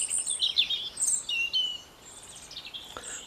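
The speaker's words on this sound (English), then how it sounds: "The bird song is lovely, isn't it?" Small garden birds sing in light, high chirps and short warbling phrases, fairly distant over a quiet outdoor background, with a sharp click near the end.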